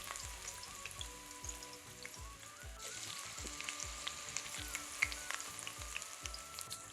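Onion, curry leaves and hot pepper fry in oil in a 5-quart pot over low heat, giving a steady crackling sizzle with scattered pops and spits throughout, heard close with no voices.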